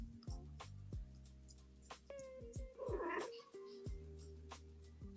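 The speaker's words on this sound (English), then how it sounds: "Did you hear my cat?" A pet cat meows a few times in a room, with one clear, rising, drawn-out meow in the middle amid faint background sounds.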